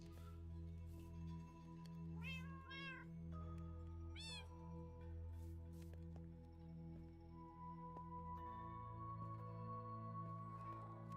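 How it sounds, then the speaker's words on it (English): Several cats meow in the Minecraft video game: a few short, rising in-game mews repeat over a steady tonal game-music bed, with a brief pause between calls and no talking. "Yay! I have 3 cats!"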